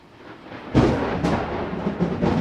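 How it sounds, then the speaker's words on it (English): Deep rumbling thunder from an approaching storm, a low roll swelling suddenly and lingering with a second surge, fairly loud and heard alone. "And now it's about to storm at my house"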